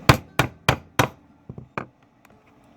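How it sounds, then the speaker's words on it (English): A hammer strikes a metal setting tool on a leather bracer: four sharp, evenly spaced close blows, followed by a few lighter, fainter taps trailing off. "and then you hammer it"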